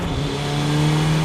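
Drift car engine holding a steady loud droning tone with slight pitch rise, close and continuous with no talk over it.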